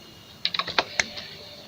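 Keys tapped on a computer keyboard while typing a short word, about six quick clicks in a brief burst, close and fairly clear against quiet room noise.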